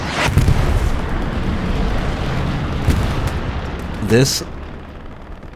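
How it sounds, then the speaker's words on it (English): Artillery shells land in the distance on Utah Beach in Hell Let Loose, rumbling booms over a dense, roaring battlefield wash. A louder blast comes near the start and a whooshing burst follows later, under faint talk. "GBI's artillery is just hitting a little bit further east."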